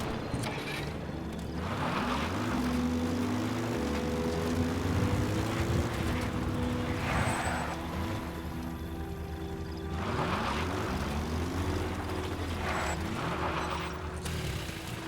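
A helicopter in Metal Gear Solid V: a rotor and engine drone under game sounds, with rising and falling engine tones sweeping up and down in waves and periodic bursts of noise, alone without talk.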